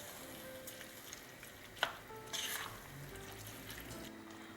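A spoon stirs peas and double tomato concentrate in a pan, with faint scraping and soft sizzling, a few brief clinks and a short louder scrape midway, all quiet and close.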